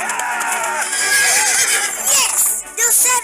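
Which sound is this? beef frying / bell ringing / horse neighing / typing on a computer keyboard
horse neighing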